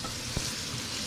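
Calzones sizzle as they cook in a pan, a faint steady frying hiss broken by one brief soft knock, with no voices.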